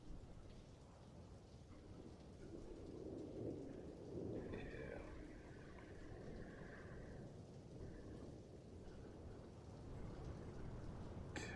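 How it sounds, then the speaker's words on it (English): Low distant thunder rumbles steadily through steady rain, a broad continuous roll swelling around the middle and never quite fading. "Wasn't expecting that thunder."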